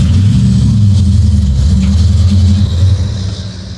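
A Plymouth Duster's engine pulls steadily on the road, a loud, close, low rumbling drone with a deep throaty note that eases slightly toward the end.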